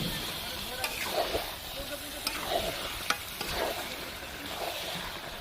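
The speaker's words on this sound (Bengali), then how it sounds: "মাংসটা রান্না হচ্ছে, রান্না করছি।" Meat frying in a pan on a home cooking stove crackles with a constant sizzle, while a spoon scrapes and stirs it in repeated strokes every second or so.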